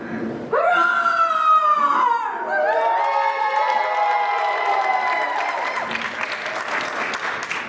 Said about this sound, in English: I feel that I'm going to roar, a very loud roar